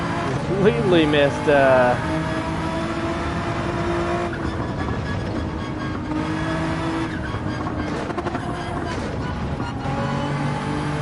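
A Nissan GT-R race car in Gran Turismo 7 roars around a circuit, its engine revving up and down steadily through turns with tire squeal, while someone talks over it.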